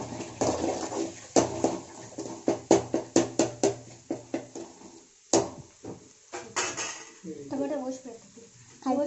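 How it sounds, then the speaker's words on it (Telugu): Spring onions being stirred in a pan, with repeated clinks and scrapes of a utensil against metal in an uneven rhythm, then softer clatter as a voice talks briefly near the end. "స్ప్రింగ్ ఆనియన్స్ వేసుకున్నాము. ఇప్పుడు కలుపుకోవాలి."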